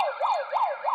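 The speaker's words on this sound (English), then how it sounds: "you click on the siren button to echo" Electronic siren sound effect triggered by a button, a wailing tone that rises and falls three times in quick succession, steady and alone with no voices.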